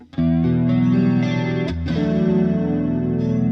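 A Kiesel signature electric guitar rings out through pedal board effects, with loud, sustained, saturated chords that briefly drop and switch to a new voicing partway through, with no talking.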